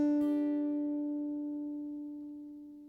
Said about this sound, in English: instead of playing our G note on the low E string, we actually play it on the high E string.